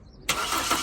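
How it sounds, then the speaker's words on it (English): A Toyota Corolla with a cylinder 3 misfire cranks briefly and catches, the quiet lead-in giving way abruptly to a loud, steady engine roar that carries on close by. "I'm going to get Abs to start it up while I check the live data"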